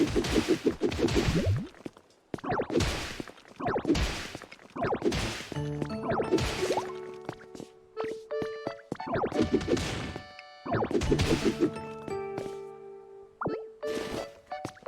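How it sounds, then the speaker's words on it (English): Rocks smashed overhead in the video game Pokémon Pokopia, a series of loud percussive whacks and crashes in bursts, followed by chiming, tonal game effects layered over the impacts. "Want to hit rocks above you? Just look up and pow."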